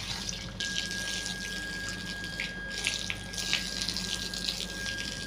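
A tap runs steadily during evening household cleaning, a continuous close splashing hiss as something is rinsed under the stream, with faint clinks here and there.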